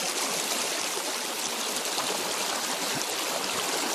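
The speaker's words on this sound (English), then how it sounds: "I'm in what is one of the most beautifully clear rivers I've ever been in my life" A clear mountain river in Garmisch-Partenkirchen, Bavaria, rushing steadily and close by, a dense continuous hiss and babble of flowing water with no voices.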